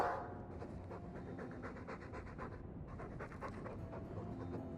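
A Mabari war dog from Dragon Age 2 pants in quick, steady, rhythmic breaths, close and continuous throughout, quiet and with no voices over it.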